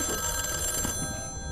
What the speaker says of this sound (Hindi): तभी वहाँ एक फोन बजने लगता है।